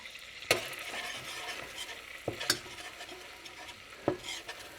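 Butter and flour roux, two tablespoons of each, lightly browning in a pan while a spoon stirs it, with a soft steady sizzle broken by a few sharp scrapes against the pan. No one speaks.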